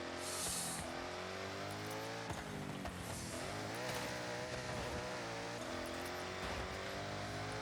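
A powerful 1990s car driven hard in the racing game Forza Horizon 6, its engine droning and rising and falling steadily with gear changes, loud and continuous throughout.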